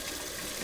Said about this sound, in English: So I'm going to add some more water.